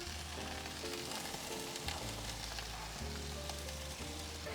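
Bacon sizzling on top of sweet potatoes in a hot pan, a dense continuous crackle and spatter, close and steady throughout without voices.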